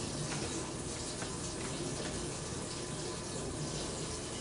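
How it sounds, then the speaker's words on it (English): Live crawfish are rinsed under steadily running tap water, a constant close hiss and splash that holds evenly throughout with no talking. "these crawfish, I'm just gonna rinse them off"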